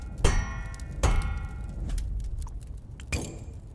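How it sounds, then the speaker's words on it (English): Hammer ringing against a forged sword blade at a smithy, three sharp metallic clangs with bright shimmering overtones, the first two close together and the last after a pause. "I can polish with a hammer"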